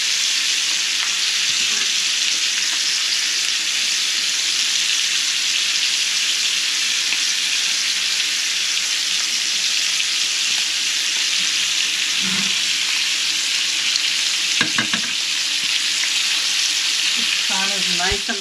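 Garlic sizzles in a hot pan, a loud, continuous hiss with a few scraping stirs and clinks near the end.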